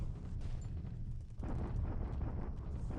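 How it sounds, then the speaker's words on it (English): Bombardment explosions at Singapore in the War in the Pacific game, a rumbling series of low booms that swells into a heavier blast midway, moderately faint and continuous, with no voices. "bombardment at Singapore"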